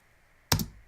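A single sharp key click from a computer keyboard, close and crisp, standing out against near silence.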